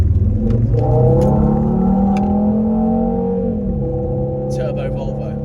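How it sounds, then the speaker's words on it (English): A five-cylinder turbocharged Volvo in sport mode accelerates, its loud engine note climbing steadily in pitch before easing off, while someone talks over it. "I'm about to accelerate onto a fast road, and I love the sound, sport mode, of my 5-pot"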